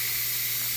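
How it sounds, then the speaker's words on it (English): Steam hisses out of the release button on a quick cooker, a continuous loud, bright rushing jet with a faint low hum beneath it, close by and steady. "we're going to push the steam release button and we're going to release the steam."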